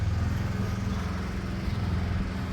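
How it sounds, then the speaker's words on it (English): Steady engine drone of a neighbour's lawn mower running nearby, a continuous low rumble holding level throughout with no one speaking. "Sorry, neighbours mowing the lawn."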